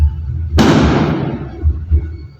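Fireworks burst outside with one sudden loud crackling blast that hisses and fades over a couple of seconds, followed by a few low distant thumps.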